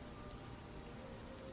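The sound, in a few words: rain sound effect in tabletop role-playing session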